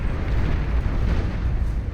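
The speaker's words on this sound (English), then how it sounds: "Big old explosion as the commander goes up in smoke right there" A commander unit blows up in the strategy game Beyond All Reason, a loud sustained rumbling explosion with heavy low-end roar lasting a couple of seconds, no voices.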